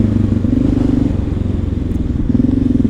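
Close, loud Honda XR650L motorcycle engine fitted with a Lexx silencer, thumping along at a steady idle with a brief dip and rise in revs.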